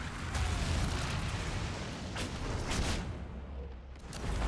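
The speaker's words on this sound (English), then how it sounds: "how would you like a wall of fire?" A wall of fire spell in Dragon Age Inquisition roars up as a dense, rushing crackle with soft bursts, loud and continuous for a few seconds with no talking.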